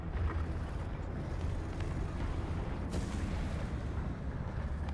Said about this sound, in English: Artillery barrage.